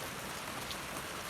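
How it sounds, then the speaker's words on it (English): Steady rain falls outdoors during a lemongrass transplanting session, a dense, even hiss of drops hitting surfaces close by with no talk over it. "Yep, I get rained on again."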